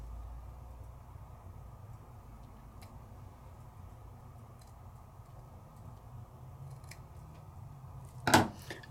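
Scissors snip through a Christmas wishes craft piece near a cute gnome design, one sharp close cut standing out late against a quiet room hum.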